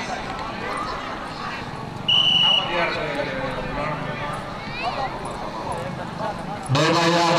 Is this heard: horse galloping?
yes